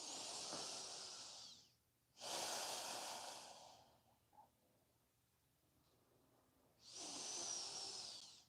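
Slow breathing through the nose during a guided floor stretch, with three long, close, airy breaths separated by quiet pauses.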